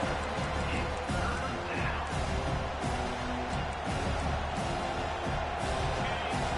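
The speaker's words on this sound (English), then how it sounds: "The roar of the crowd trying to fuel this defense to keep them pinned in their own end." Stadium crowd roaring in the NCAA 25 college football video game, a steady dense crowd roar with scattered thuds and impacts, alongside commentary-like voices.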